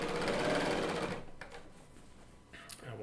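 A Bernina L890 sewing machine stitches a continuous quilting meander, a loud, steady mechanical run for about a second that then cuts off, leaving faint room sounds and brief clicks.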